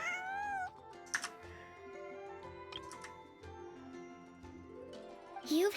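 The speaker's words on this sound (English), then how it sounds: "That's a big cat." A large cat in the video game Genshin Impact gives a drawn-out, wavering meow near the start, followed by softer game sounds and ticking, with a rising chirp at the end.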